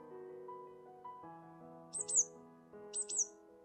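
Small bird chirping in the Switch game Evermaiden, two bright high twittering bursts over soft game background music.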